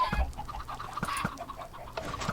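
Chickens on a Minecraft chicken farm cluck in a steady stream of short, close calls, with several birds overlapping and no talk over them.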